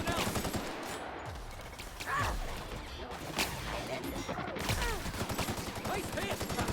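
Automatic gunfire from an Outer Worlds firefight with auto mechanicals, dense rapid bursts rattling continuously throughout, with game voices talking over the shooting.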